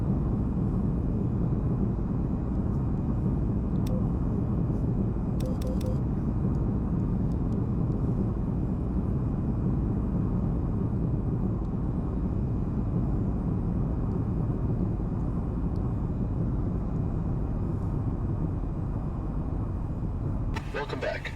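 Fixed-wing aircraft in the VTOL VR flight game taxiing after landing, a steady, loud engine drone that holds throughout with faint clicks, under intermittent radio-style talk.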